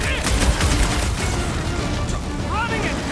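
Heavy gunfire from big guns during a rooftop fight in Marvel's Guardians of the Galaxy, a loud, dense barrage of shots and blasts mixed with game effects and talk.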